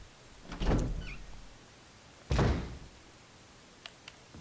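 Mansion door in the Resident Evil remake video game opening after the mansion key is used, with a heavy thunk, a second solid bang about two seconds later and a couple of faint taps, no talking.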